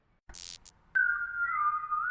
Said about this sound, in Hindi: राहुल ने खुद से कहा और सीटी बजाते हुए आगे बढ़ा।